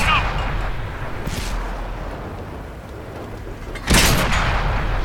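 Artillery fire in the tank game World of Tanks, heard as rumbling background gunfire with a loud, sudden boom near the end; a voice talks over the start.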